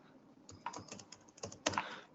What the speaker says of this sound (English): when I'm typing now it is getting some delay